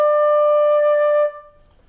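A single flute note D is held steadily for over a second, clean and close, then cut off, leaving faint room noise.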